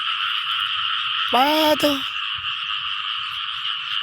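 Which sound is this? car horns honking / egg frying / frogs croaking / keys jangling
frogs croaking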